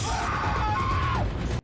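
A loud, sustained scream from a Teen Wolf season 2 episode 12 scene holds a high pitch, bends briefly, then drops and cuts off abruptly into near silence.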